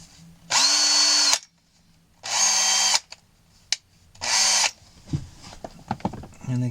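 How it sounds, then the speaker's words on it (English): A drill fitted with a tiny bit bores into an accordion bellows frame in three loud, steady bursts of about a second each, separated by pauses, followed by light clicks and handling noises. "Just going to swap my drill over for my tiniest one."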